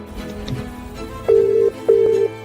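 Telephone line tones as a call connects: two loud, steady ringback beeps of equal length with a short gap between them, over a low hum.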